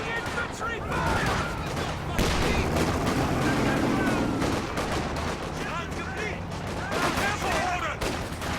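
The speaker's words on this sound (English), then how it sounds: "Taking infantry fire!" Dense infantry gunfire in a World War II real-time strategy battle, loud overlapping rifle and machine-gun bursts with explosions, sustained the whole time, with a voice speaking over it.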